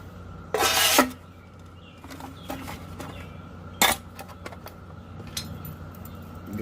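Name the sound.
reassembling a Valtcan titanium military canteen mess kit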